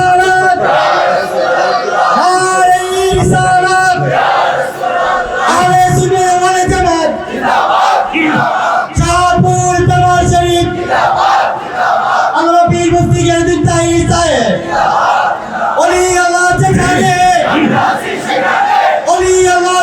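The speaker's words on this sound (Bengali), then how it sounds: "সবাই হাত তুলে নারায়ে তাকবীর।" A large crowd at a rally in Comilla chants Nara-e-Takbir in loud, repeated rhythmic bursts, roaring voices in unison returning several times with brief gaps between the shouts.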